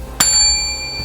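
A single bright bell ding rings out sharply at the start, its metallic tone lingering and slowly fading over a quiet background with no talking.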